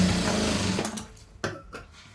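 A sewing machine stitches tucks into saree cloth, a steady mechanical whir running through the first second or so before it slows and stops, leaving a few sharp clicks and thumps.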